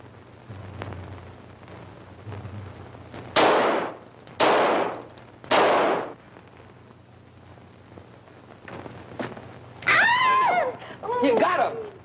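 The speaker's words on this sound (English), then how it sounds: "All right, Herbie, show him how we shoot." Gunshots in a 1943 comedy film, three loud, close bangs about a second apart, followed by scattered fainter shots and then excited shouting voices.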